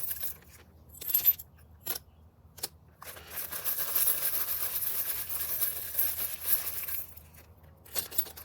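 Dice clatter and rattle with a few sharp clicks and light tumbling scrapes, close and quiet, in short bursts with pauses, without any talking.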